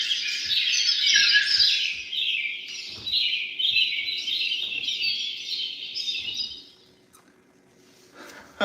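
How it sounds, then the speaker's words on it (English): Bright bird chirps summoned during a live cooking and music improv form a dense, continuous twittering of quick, high notes for about seven seconds before fading out, with faint soft knocks underneath. "I can summon the birds, a C bird, a G bird, and an E bird."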